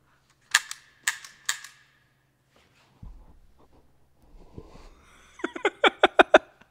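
Empty handgun dry-firing from the crime thriller Asura: three sharp clicks near the start, a low thud and shuffling, then a rapid run of six or so crisp metallic clicks at the end, close and alone with no talk.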